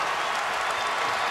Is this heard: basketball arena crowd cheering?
yes